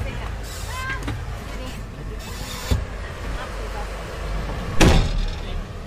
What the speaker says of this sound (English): The door slams shut on our armoured vehicle